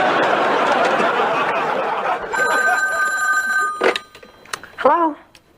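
A telephone bell rings indoors, a sustained metallic jangle for a couple of seconds that stops and is followed by soft laughter and chuckling.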